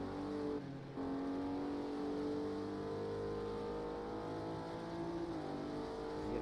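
GT3 race cars in a racing video game drone steadily at a distance, a sustained engine whine holding pitch with a brief dip early on, no talk over it.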